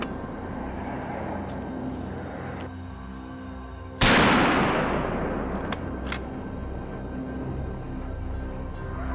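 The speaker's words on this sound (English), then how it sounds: "A gunshot rang out, tearing the quiet atmosphere apart, and the boar collapsed on the spot." A single loud, sharp gunshot from a hunter firing at a wild boar cracks out nearby, followed by a long fading reverberation over a steady outdoor background hum.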